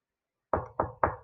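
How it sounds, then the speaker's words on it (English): Three firm knocks in quick, even succession, close and hollow, after a moment of silence. "You guessed it, knock."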